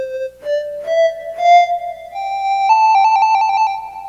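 An Ocarina app on an iPhone, played by blowing into the phone, gives pure flute-like tones that step upward through a few sustained notes, then flutter into a quick trill near the end, clear and close with no talking.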